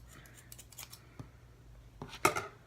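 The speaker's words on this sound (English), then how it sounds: "So I'm gonna cut all of them first so I can see about like the length of the hair." Scissors snip through old silver box braids in a few quiet, crisp cuts, ending in one sharper, louder snip near the close.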